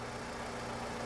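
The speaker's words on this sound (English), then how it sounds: "So as you can see, the engine is running" A Toyota Camry engine with a lean-running fault and low fuel pressure idles steadily, giving a continuous, even drone with a low hum and no revving or voices.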